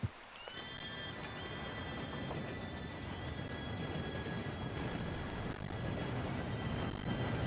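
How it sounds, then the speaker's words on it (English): A train approaches in Red Dead Redemption 2, with a faint rising rumble building steadily under thin whistle-like tones, a horse whinny near the start, and the noise growing slowly louder throughout. "Train should be here any minute now."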